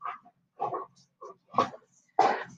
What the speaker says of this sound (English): my dog was just roughhousing.